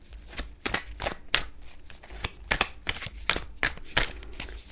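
Tao oracle cards are shuffled in a steady run of crisp, papery riffs, repeating close and fairly loud in quick bursts with no voices over them.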